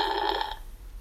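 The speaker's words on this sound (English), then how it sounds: "The phone is ringing." A telephone bell rings in an indoor room, a steady electronic trill lasting about half a second before fading into quiet room noise.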